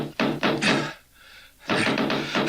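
Knocking on a door, an audiobook sound effect: a quick cluster of three loud, close raps, a pause of about half a second, then another set of three knocks.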